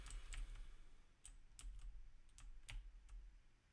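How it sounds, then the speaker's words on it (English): Spacebar on a computer keyboard tapped during Minecraft play, about eight faint separate clicks at uneven intervals over a low background hum, with no talking. "There's going to be a lot of spacebar clicking"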